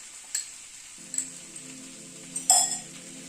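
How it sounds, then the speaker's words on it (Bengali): Sour yogurt (curd) whisked in a bowl gives a few light, scattered clinks over a steady soft sizzle in the background. "টক দইটাকে ফেটিয়ে রেখেছিলাম আমি, আর একটু ফেটিয়ে নিচ্ছি।"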